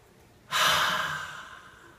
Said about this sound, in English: let's take a deep breath in and let it all out